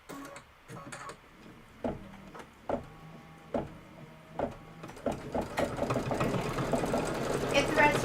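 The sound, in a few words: sewing machine stitching quilt pieces together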